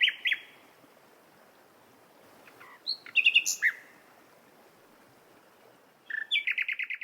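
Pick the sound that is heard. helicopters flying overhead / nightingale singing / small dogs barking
nightingale singing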